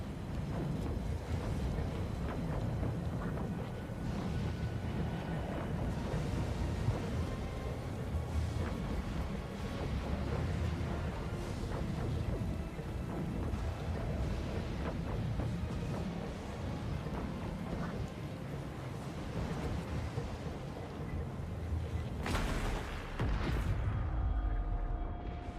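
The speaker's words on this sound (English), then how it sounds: "Uma percussão profunda sacode a torre pelas raízes." Deep rumbling storm thunder shaking a tower in the Pillars of Eternity 2 video game, a continuous heavy low roar with wind-like noise throughout and a brief sharper burst near the end.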